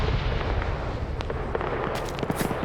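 Gunfire crackles during an airfield raid in an Arma-style military video game: dense, continuous bursts of shots and distant blasts, some sharp nearby cracks standing out from a rumbling battlefield din, with no talk.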